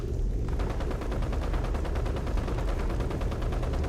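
Rapid automatic gunfire in Fallout 76's Nuclear Winter mode on the Morgantown map: a dense, continuous stream of loud shots with a steady rhythm throughout, close and unbroken, no voices over it.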